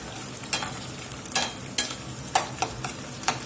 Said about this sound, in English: This is browning pretty good. And those onions cook down pretty good.